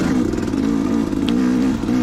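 A 2019 KTM 250XC dirt bike engine drones steadily and loud while riding a trail at Prospect OHV, holding a constant buzzing note with slight revving wobbles and no talk.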